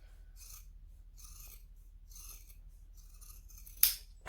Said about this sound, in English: I am going to cut all of the rest of the seam allowance down